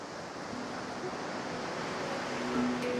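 Gentle ocean waves wash steadily in a calm seaside scene from Divinity: Original Sin 2, a soft continuous surf wash with a faint swell near the end and no talk.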